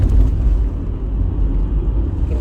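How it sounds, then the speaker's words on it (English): Low, steady rumble of road traffic heard from inside a car, a continuous muffled drone of engines and tyres with no distinct passes or talk. "There's traffic."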